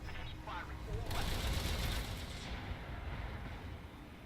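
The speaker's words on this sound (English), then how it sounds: "Firing all weapons." Weapons volley from a Griffin mech in Battletech, a rapid burst of heavy mechanical gunfire and booms that swells for about a second and a half, then trails off into a rumbling tail, faint overall, with talk.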